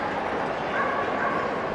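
Crowded dog show hall at Crufts with a dense wash of noise where faint barks and whines from many dogs blend into the steady din.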